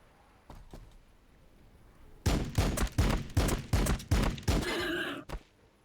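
Units firing in Warhammer 40,000: Battlesector, a few faint shots followed by a rapid, loud volley of sharp gunfire bursts in an uneven rhythm, ending abruptly, with no talking.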